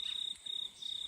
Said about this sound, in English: Listen to the cricket in the background